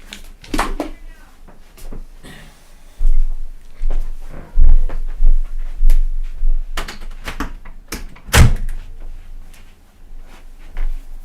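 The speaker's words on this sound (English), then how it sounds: "Whoops, I gotta go close the office door." An office door is pushed shut, with knocks and thuds at varying loudness, a sharp bang near the end, and low rumbling handling noise between them.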